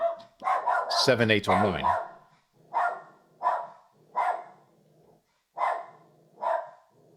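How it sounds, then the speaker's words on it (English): A dog barks at someone knocking on a door, with a rapid run of barks mixed with someone talking, then single sharp barks repeating every second or so. "Hopefully my dog will calm down"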